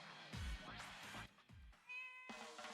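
A cartoon cat meows in the gacha game A Certain Magical Index: Imaginary Fest, several short clear mews in a row over faint game music with a chiming tone near the end.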